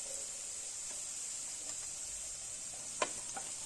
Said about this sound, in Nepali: अब एकैछिन फ्राई गर्नुपर्छ।